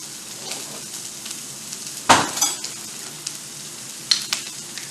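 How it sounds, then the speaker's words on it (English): A spoonful and a half of butter hitting a hot pan gives a sudden loud sizzle that fades quickly, then a second, smaller sputter a couple of seconds later, over a steady low frying hiss. "I'm going to add just a touch of butter"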